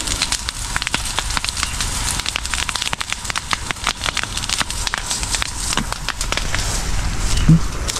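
Fire burns through a calamansi orchard with fruit still on the trees, giving a steady crackle and scattered sharp pops over a continuous rushing hiss throughout.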